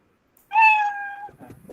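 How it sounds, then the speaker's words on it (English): A cartoon-style cat meow played from a Scratch program on a phone speaker, one drawn-out tonal call lasting under a second, clear and fairly close, followed by faint low rustling. "I can hear cat sound"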